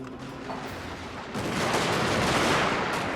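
Massed musket volley fire from line infantry in the Total War: Fall of the Samurai siege of Osaka Castle, starting as distant crackle and then swelling into a dense, continuous roll of overlapping shots.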